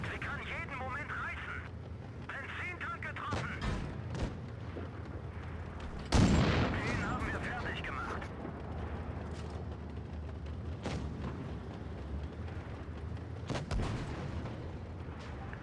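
A tank's HE shell firing in World of Tanks Blitz, one heavy booming cannon shot midway through ongoing game noise, with a voice talking throughout.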